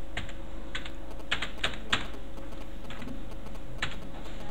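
Keys clack one after another on a computer keyboard while an email address is entered, in quick uneven clusters with short pauses, close and clear with no talk.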